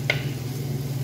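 Mushrooms tipped into a hot frying pan with chicken cubes, a brief close clatter and sizzle over a steady cooking hum.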